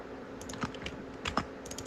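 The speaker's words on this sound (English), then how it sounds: "I'm typing in wrong stuff" A computer keyboard clatters softly during C++ game coding on a PC, with irregular quick keystrokes and a few louder taps standing out.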